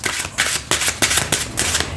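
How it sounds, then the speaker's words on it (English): A tarot card deck is shuffled close up in a series of quick, crisp riffling bursts, each a brisk papery flutter separated by short pauses, with no voices. "I'll do this shuffle with this deck here."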